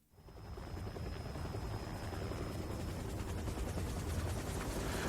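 Helicopters in the PS1 video game Parasite Eve, a loud, steady rotor thump that rises quickly from quiet and keeps pounding close up, with a thin whine above it and no voices.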